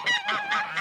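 Nesting geese give a quick run of four harsh, nasal honks, close and fairly loud, with no talking.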